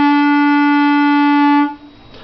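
A single steady saxophone note E is held clearly for under two seconds, then cut off, leaving faint room noise.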